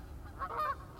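Geese honk in a short cluster of two or three overlapping calls near the middle of the one-second stretch, fairly close and moderately loud over a low rumble, with no speech.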